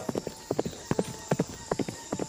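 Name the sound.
horse hooves clip-clopping as a man rides into the jungle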